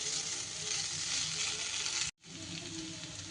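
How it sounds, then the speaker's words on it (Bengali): Paneer and pointed gourd fry in a pan with a steady, close sizzle. The crackle cuts out for an instant and then resumes just as strong. "এইভাবে পটলের সাথে একটু ভাজা ভাজা করে নিতে হবে"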